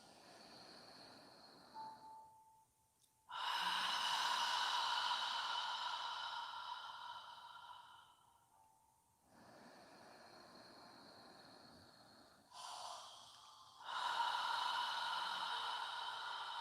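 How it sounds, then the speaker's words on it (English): Slow, deliberate breaths drawn in through the nose and pushed out through the mouth in a fogging style, long airy exhales repeating in a calm rhythm, close and soft. "Inhaling through your nose and exhaling through your mouth as if you're fogging a mirror with your breath."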